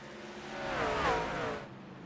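A race car in iRacing at Bristol swells past in a single engine whine that rises and fades over about two seconds, moderately loud with a steady background drone.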